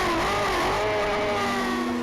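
A racing motorcycle in a Thundersport race at Cadwell Park screams at high revs into Park Corner, a loud, sustained engine whine with the pitch sliding down and then holding steady.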